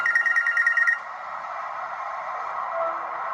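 A telephone rings with a bright, repeating electronic trill for about a second, then gives way to a steady, hissy background for the rest of the moment.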